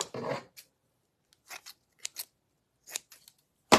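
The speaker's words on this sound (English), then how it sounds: "So I'm just taking a little hunk of cheesecloth. And you know me, I just kind of rip it." Cheesecloth torn by hand in a kitchen, a series of short dry ripping bursts separated by pauses, close and fairly crisp, with no talking.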